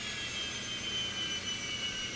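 A Phenom 300 business jet engine winds down in a flight simulator, a steady high whine with a sustained tonal hum, close and constant, with no voices.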